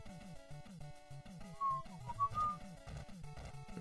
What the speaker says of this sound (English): Sorry, I won't whistle in the mic.